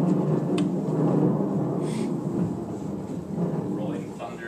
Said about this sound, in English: Rolling thunder, doom and gloom.